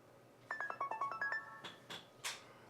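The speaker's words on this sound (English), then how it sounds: "Someone has just sent a text message to Professor Pearson." A short melodic phone alert chimes alone on a quiet stage of an amateur War of the Worlds radio play, a quick run of bright tonal beeps followed by a few louder swooping notes.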